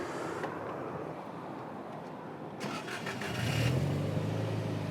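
Cusco Toyota GR Yaris Japan rally championship car fires up after a quiet stretch: starter crank, then the engine catches and settles into a loud, close, steady idle with a low throbbing note.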